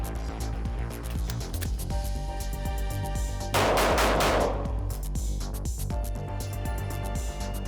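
Rapid shots from a NURO training gun during a shooter training drill, a burst of sharp cracks amid dense clatter, with a louder cluster of about four reports near the middle, steady background noise throughout.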